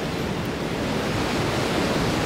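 Ocean surf rolling and breaking at the Margaret River pro surf contest, a steady loud broadband wash of water that holds for the whole stretch with no voices over it.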